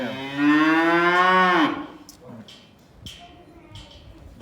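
A dairy cow being hand-milked gives one long, loud, close moo that falls off at the end, followed by quiet shuffling and a brief spoken word.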